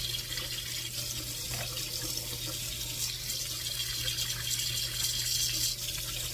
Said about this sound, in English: So, we're going to rinse them all out.